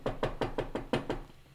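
Knocks on a front door, six firm raps in a steady even rhythm, close and fairly loud, with no voices.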